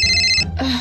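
A telephone ringtone chirps loudly and close in a short electronic trill, then breaks into a different tone as the ringing cuts off.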